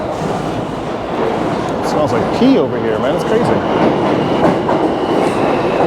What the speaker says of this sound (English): So here's the train right now.